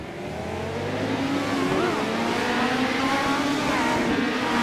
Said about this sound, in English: there goes the pace car